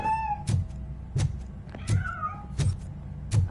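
Several clear cat meows spaced through a few seconds inside RoboCop: Rogue City, each with a thud-like low burst beneath, mid-loud and fairly close, no talking.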